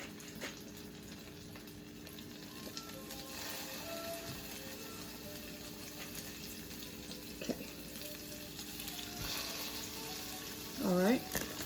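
Salmon patties frying in hot oil in a skillet on medium-high heat, a steady close sizzle that runs throughout, with a few faint clicks and utensil knocks and a brief rising tone near the end.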